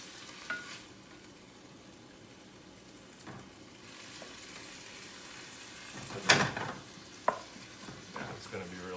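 Anchovies fry in a pan with a low, steady sizzle while a utensil stirs them, giving a few sharp scrapes and clacks against the pan.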